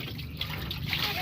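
Soft splashing and trickling water as a child bathes in a basin tub, faint and close, continuous light sloshing without voices.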